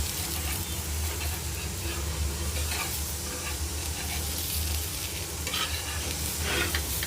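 Semolina and gram flour uttapam cooking with ghee in a pan gives a steady, dense sizzle that carries on evenly throughout, with faint stirring noises.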